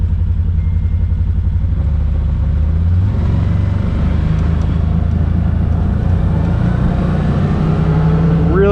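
A 2023 Gen2 CFMoto ZForce 800 Trail UTV in high gear and two-wheel drive pulls away smoothly, its engine a steady low rumble that rises gently with some clatter, and a voice talks briefly over it.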